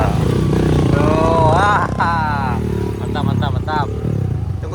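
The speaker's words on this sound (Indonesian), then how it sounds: "Kayaknya banyak motor trabas yang mau lewat nih ya" A group of trail motorcycles climbs a mountain road between Muaro Aie and Alahan Panjang, engines revving and rising in pitch close by while people talk over them.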